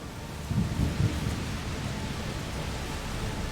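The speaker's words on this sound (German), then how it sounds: "Das ist nur ein Sturm." Thunderstorm in A Plague Tale Requiem: steady heavy rain hissing throughout, with a low thunder rumble swelling early on, no voices.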